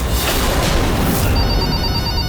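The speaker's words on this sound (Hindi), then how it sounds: "ये घर के फ़ोन में कौन फ़ोन कर रहा है?" A home landline telephone rings loudly and steadily indoors, a continuous electronic ring filling the whole moment with no voices over it.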